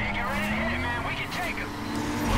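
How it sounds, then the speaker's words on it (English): A car doing burnouts in the racing game Need for Speed Carbon, a steady revving engine drone with tire noise running continuously and rising slightly at the end, heard with a voice talking over it. "Another guy doing burnouts."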